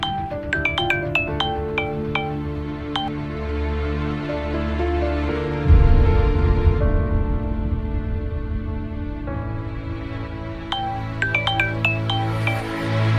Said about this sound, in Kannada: ಮತ್ತೆ ಮತ್ತೆ ಏಕ್ ಫೋನ್ ಮಾಡ್ತಾ ಇದೀಯಾ ನೀನು ಚೆನ್ನಿ